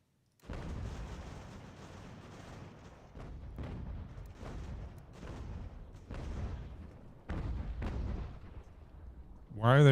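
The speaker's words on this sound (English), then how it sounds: "Look at all of these artillery shells." Artillery bombardment in Ultimate General: American Revolution, a steady run of muffled booms and blasts rolling one after another at moderate distance, with a brief tonal sound at the very end.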